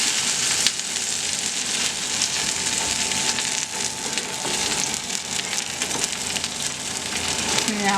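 A creamed spinach grilled cheese sizzles and fries steadily in a pan just after being flipped, a dense continuous crackle that holds at a constant loudness throughout.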